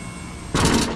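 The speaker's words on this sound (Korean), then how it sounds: "다시 켰습니다. 모터가 돌아갑니다." Electric motor of a truck's power liftgate starts up abruptly halfway through, a steady loud hum replacing the quieter background, with no talking.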